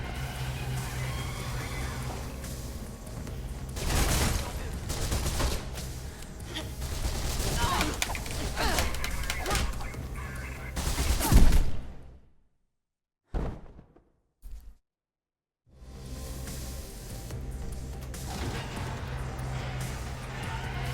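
Enemy gunfire in the Mirror's Edge video game, dense bursts of automatic shots with a constant loud roar and chaotic combat noise, then brief silent gaps before the firing resumes.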